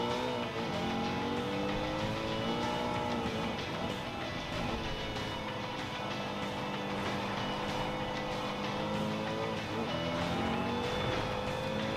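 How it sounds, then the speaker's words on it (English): Gran Turismo 7 race car engine braking through downshifts, with the engine note stepping and swooping between revs in a steady, loud in-car drone for the whole stretch, with faint tire noise underneath. "Using a bit of engine braking there by downshifting."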